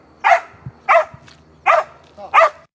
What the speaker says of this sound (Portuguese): Um cão farejador vasculha o local onde militares acreditam ter o corpo de uma pessoa desaparecida.